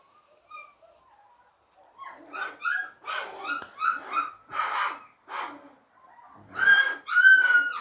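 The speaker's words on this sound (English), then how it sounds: "He sort of chows at his mum a bit, tries to bark at her." A puppy growls and barks at its mother: a run of short, high yips and whimpering yaps in uneven bursts, close by, ending with two louder, longer squealing barks.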